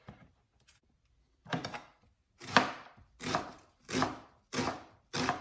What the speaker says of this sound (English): So just thinly slice and then chop your just 1 brown onion.